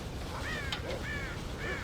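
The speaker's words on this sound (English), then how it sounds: "God damn crows!" Crows cawing in the Red Dead Redemption video game, several harsh calls rising and falling over about two seconds, moderately loud above a steady background hum.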